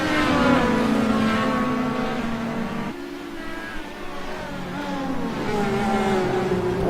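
Dallara DW12 IndyCar engine at racing speed, a loud sustained high-pitched whine whose pitch climbs and drops through gear changes, dipping slightly in the middle before rising again.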